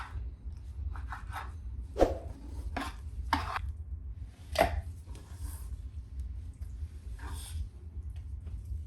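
A knife chops raw chicken into small pieces on a board, giving a handful of sharp, close cutting thuds at irregular intervals over a low steady background, with no talking.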